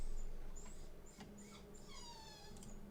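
A dog named Max whimpering indoors, faint high-pitched whines and soft yips in short repeated bursts, quiet and close against a low background hum.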